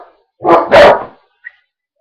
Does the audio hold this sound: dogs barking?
yes